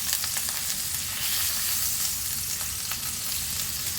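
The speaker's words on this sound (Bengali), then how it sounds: "দেখো পনিরগুলো একটু ভেজে নিচ্ছি।" Paneer cubes fry in a pan with a steady, close crackling sizzle and occasional stirring scrapes, continuous and fairly loud, with no talking.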